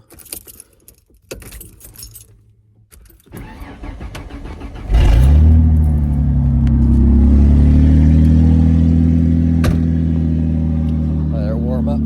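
Keys jangle and a 1986 Corvette engine cranks and catches, then settles into a loud, steady warm-up idle. A voice speaks briefly early on.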